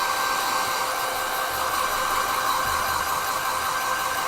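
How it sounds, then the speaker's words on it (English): A hair dryer blows a loud, steady roar of air onto a watercolour painting throughout, with a faint low rumble underneath and no voices. "I'm just going to put the dryer on it"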